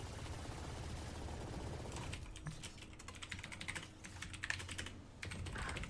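Rapid clicking of a computer keyboard, with light irregular keystrokes in quick bursts, heard faintly over game sounds with occasional gunfire in the background.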